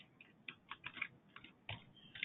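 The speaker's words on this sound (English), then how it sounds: "I can just start typing the customer's name" A customer's name is typed on a computer keyboard as a light, uneven patter of quiet key taps, fairly close, with no speech.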